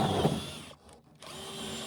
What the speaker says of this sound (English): I'm drilling a hole through the roof to install our Wi-Fi unit